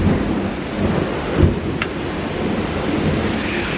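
Thunder from a lightning storm growls low beneath a constant hiss of rain, a steady loud wash with a brief stronger rumble near the middle and no voices.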